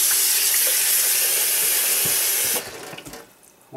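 Water hisses and sizzles steadily in a hot new Mandarin wok being washed, a loud bright rush that suddenly drops away, leaving faint splashes before a last burst.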